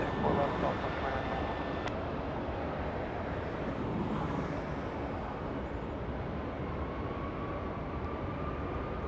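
An airliner at Los Angeles International Airport, heard as a steady, distant jet roar and rumble with wind noise on the microphone, and a faint whine rising late on, with speech present.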